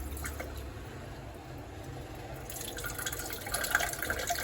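Running tap water splashing over pumpkin pieces being washed in a sink, a steady moderate flow that grows brighter and more splashy toward the end, with no talking.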